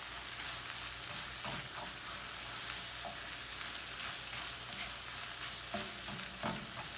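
A breakfast vegetable hash with eggs cooks in a pan, giving a constant, dense sizzle with occasional light stirring scrapes, steady and unbroken with no voices.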